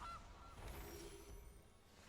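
A goose honks as the Gilded Goose card is played in MTG Arena, a brief faint game sound effect over quiet background noise.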